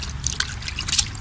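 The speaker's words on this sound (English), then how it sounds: "And you rinse it out good." Laundry rinsed by hand in a tub of rinse water, with a steady close trickling and dripping and small splashes running throughout, no talking.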